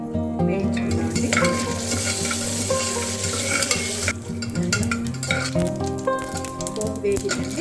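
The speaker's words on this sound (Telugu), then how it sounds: "ఆవాలు, జీలకర్ర వేసి" Mustard seeds, cumin, chana dal, urad dal and dried red chillies fry in hot oil as a tempering for a chickpea snack. Close, continuous sizzling mixes with stirring and a pan clinking, with tonal background music and no talking.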